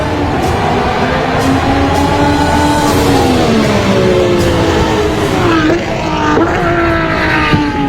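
An RC plane engine in flight whines with a high, buzzing, race-car-like tone that holds steady and then sweeps down in pitch, loud and continuous throughout.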